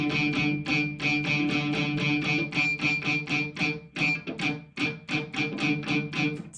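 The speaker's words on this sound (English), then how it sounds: "the sound you're hearing in this video is me playing my open D string, palm muted sometimes" A Schecter AM6 electric guitar's open D string is picked repeatedly in a quick, even rhythm, sometimes palm-muted, each note carrying a metallic clank and a ringing resonant overtone from the back springs.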